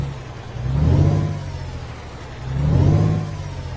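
A Volvo NH12 truck engine in Euro Truck Simulator 2, a loud, deep engine rising and falling in two separate revving swells over a low, steady idle drone.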